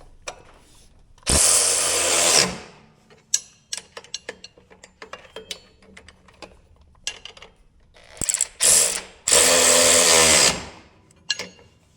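Milwaukee power tool, a drill rather than an impact driver, tightening bolts on a Deere 440R loader, with loud whirring bursts of a few seconds separated by sharp clicks, clanks and ratcheting noises.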